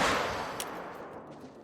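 A single loud rifle shot from a .454 in the hunting video game theHunter: Call of the Wild, a sharp crack at the start that decays into a long rolling echo across open saltwater terrain.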